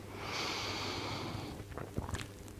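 One long audible inhale during a gentle gym posture and breathing exercise, a close airy draw of breath for over a second, followed by softer breathy rustles.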